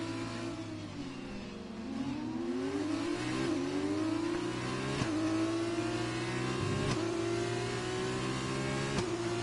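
Race cars in the F1 2020 game running at Great Britain under safety car, a steady droning engine note that rises and sweeps with gear changes, with a few sharp shifts breaking the continuous loud hum.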